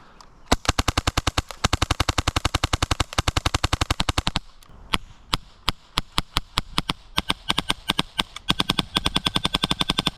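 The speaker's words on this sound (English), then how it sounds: "So I'll do some normal semi-mac firing, and I'll do it as fast as I can." Expensive airsoft submachine gun fired semi-automatically as fast as possible, a dense train of sharp, loud close-range cracks in rapid bursts, with brief pauses between strings of shots.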